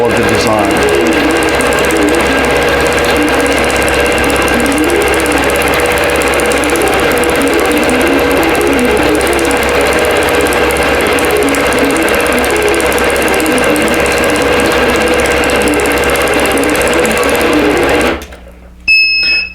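An embroidery machine stitches out a digital Caballero Dahlia design, its loud, steady mechanical hum and rapid needle chatter running continuously up close, then cutting off abruptly near the end.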